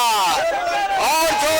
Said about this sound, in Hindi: बोल बम का नारा लग रहा है